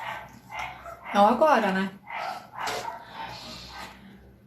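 Several dogs bark outside, a few quick yaps somewhat distant and muffled, mixed in beneath a person speaking indoors.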